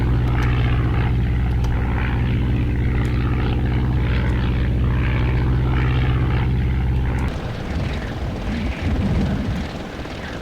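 A WWI biplane engine in the Red Baron 3D flight game drones loud and steady with a propeller hum, then cuts out abruptly near the end, leaving rougher, uneven low rumbling.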